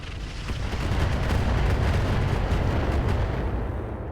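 A Thunderbolt emplacement in the RogueTech video game pours out continuous heavy artillery fire, a dense roaring barrage of booms that swells and holds loudly for several seconds, then tapers slightly.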